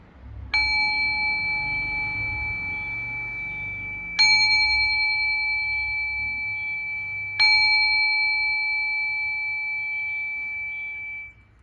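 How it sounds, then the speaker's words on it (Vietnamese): An old Japanese bronze meditation bell, number four in a set, is struck three times at even intervals, each clear ringing tone sustaining and slowly fading before the next strike. "Em cũng sẽ đánh chuông số 4 luôn ạ."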